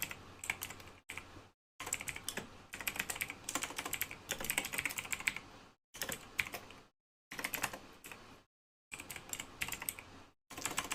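Typing on a computer keyboard while writing Node.js code comes as rapid bursts of clicking keystrokes, separated by brief silent pauses, close and clear with no talk.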